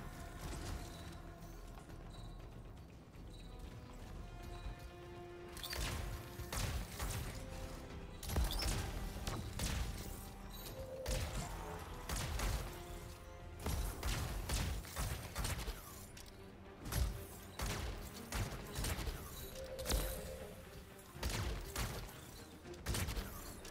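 Rapid, repeated gunfire from the video game Anthem, with dense bursts of shots and impacts stacking up over a busy combat mix that runs continuously and loud throughout.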